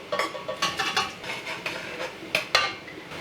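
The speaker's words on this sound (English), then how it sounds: "And then I'm going to dump in my pears and my lemon juice." Sliced pears and lemon juice tumble into a cooking pot over low heat, giving a series of close, clattering knocks and scrapes of fruit and utensil against metal, irregular bursts over a few seconds with no talking.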